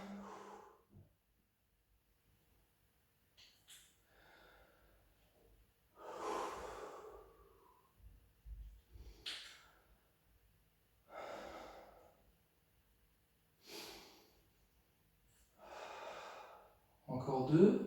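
A person breathes heavily while calming down after a jump-free cardio workout, with loud deep inhales and exhales spaced a few seconds apart and quiet pauses between them.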